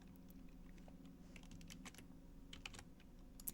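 Quick, light clicks of typing on a computer keyboard, irregular bursts of keystrokes over a soft steady background hum, with no talking.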